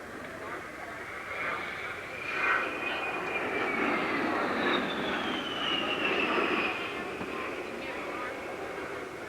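Fairchild A-10 jet at the 1986 Abbotsford International Airshow, its engine roar rising and sweeping in pitch as it turns through a tight maneuver, fairly distant and steady under an announcer's voice.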